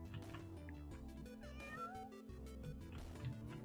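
A cat meowing in the game Here Come The Mystery Teens, a few soft meows blended into steady background music, faint and continuous.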